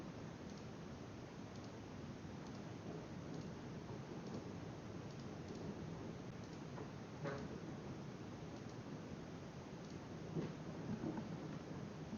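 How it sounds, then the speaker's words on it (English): A steady wash of rain with low rumbling thunder from a storm outdoors, constant and fairly distant, with no voices present. "Damn, there's a storm outside."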